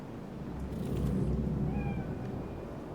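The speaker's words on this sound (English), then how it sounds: "Do you see it? That cat?" A cat meows in the video game Cyberpunk 2077: one soft, drawn-out meow heard faintly over a low, rumbling city ambience, with no talk.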